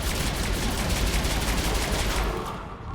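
Dense, sustained weapon fire from the video game Mass Effect 3, a loud continuous barrage of rapid gunshots that fills the whole stretch, easing slightly near the end.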